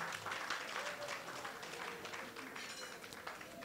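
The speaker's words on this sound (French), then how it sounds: "Et je vous prie de l'acclamer." Crowd applause at a launch event: steady, dense clapping from an audience that carries on throughout, fairly distant and low in level.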